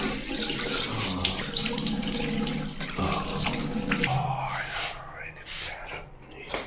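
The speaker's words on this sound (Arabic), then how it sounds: "بغسل وشي السريع" Tap water runs steadily into a sink while a face is washed, a close, continuous rushing splash that thins out toward the end, with low whispered talk over it.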